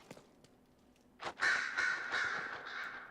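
Crows caw repeatedly in Dragon Age: Inquisition, a burst of loud, overlapping harsh calls starting partway through after a couple of faint clicks, continuing steadily to the end.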